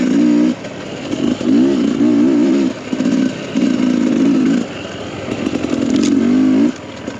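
A Sherco 300 dirt bike ridden along flowing mountain single track, its engine revving loudly and close in repeated throttle bursts with brief drops between them, buzzing and warbling as the rider works through the trail.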